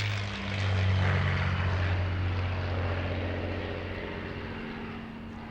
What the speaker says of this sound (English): this is the legendary Spitfire